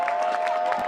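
Crowd noise rises in a Sacramento soccer stadium as a 17-year-old makes a play on his USL debut, Sacramento Republic FC against Pittsburgh Riverhounds; a brief, steady murmur of many voices hums behind the broadcast.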